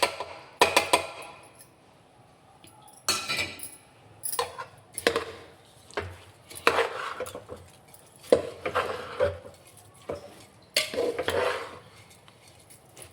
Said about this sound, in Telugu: ఇప్పుడు రొయ్యలు వేస్తున్నాను.